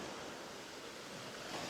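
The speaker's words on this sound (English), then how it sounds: "as the waves roll in and out, and they create like the white foam" Ocean surf rolls steadily onto a beach as a broad, continuous wash of white noise, with wind over the microphone and no voices.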